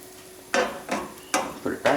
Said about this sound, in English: We're going to pour more batter into the pan. And we're going to just roll it around the pan a little bit.